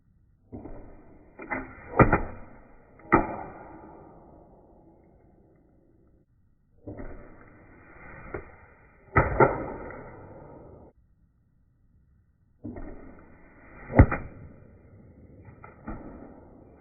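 Arrows shot from a bow in a forest during spring stump shooting, three separate bursts of whooshing flight, each with sharp thwacks and fading rattles, then quiet between shots, with no talk.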